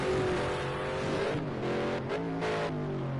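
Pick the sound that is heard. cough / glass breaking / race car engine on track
race car engine on track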